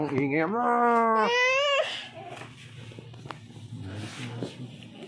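Loud infant crying in rising, wailing bursts for the first two seconds, then fading into softer background noise with faint household sounds.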